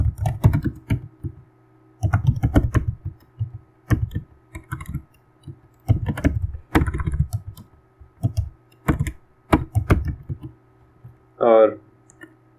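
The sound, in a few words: typing Python code on a computer keyboard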